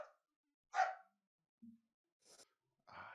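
A puppy gives a couple of short, quiet barks indoors, separated by soft snuffs and breathy sounds in an otherwise silent room.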